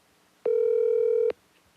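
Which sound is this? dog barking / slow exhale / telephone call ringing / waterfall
telephone call ringing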